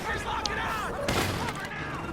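A rocket launcher fires in a fast-paced shooter video game, a single sharp broadband blast halfway through amid busy, chirping game effects.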